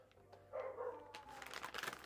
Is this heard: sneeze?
no